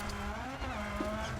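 A racing-game car engine strains at full throttle off a jump, a steady buzzing drone that is moderately loud and continuous through the short moment.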